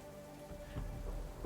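Thunder rumbles low and deep in a video game over a steady wash of rain, quiet and distant, swelling in the second half.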